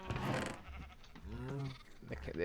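A sheep in the Terrafirmapunk video game gives a single wavering bleat over steady background game noise, fairly close and clear.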